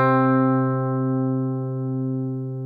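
A single sustained C note rings on a guitar string, played at the third fret of the A string, steady and clear, slowly fading, with no voices.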